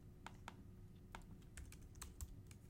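Quick, irregular keystrokes on a computer keyboard while entering data into an Excel spreadsheet, soft and close, with short bursts of clicks and small pauses between them.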